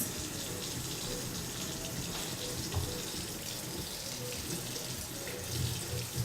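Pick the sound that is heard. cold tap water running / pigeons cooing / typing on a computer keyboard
cold tap water running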